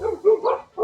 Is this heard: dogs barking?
yes